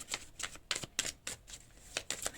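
Tarot cards being drawn and slid from a deck, a run of crisp papery swishes and flicks in an uneven rhythm, close up and fairly quiet, with no talking.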